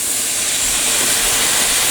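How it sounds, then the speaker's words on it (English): Red wine hitting a hot pan for deglazing, a loud, steady hissing sizzle held close without a break. "That's called deglazing the pan."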